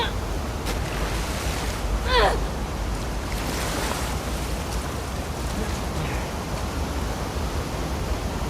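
Steady rushing water current in The Last of Us Part II, a continuous broadband wash of flowing water with a brief splash near the start, filling the whole stretch at even loudness.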